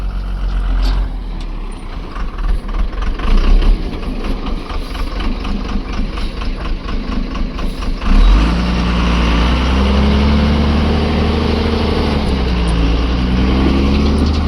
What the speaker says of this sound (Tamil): அங்கே ஒரு வண்டி வருதுங்க